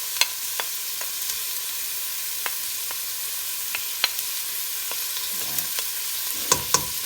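Aubergine, potato and grated garlic being stirred in a frying pan, a soft steady sizzle broken by sharp utensil scrapes and clicks against the pan, a few louder stirs at the end.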